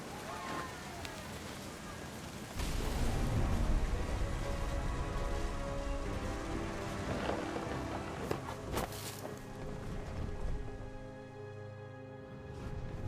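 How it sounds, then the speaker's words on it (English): Heavy rain pours steadily in a thunderstorm from the video game What Remains of Edith Finch, a dense wash of drops with a surge partway through and faint music and scattered knocks beneath. "The thunder sounded much too close and full of angry power."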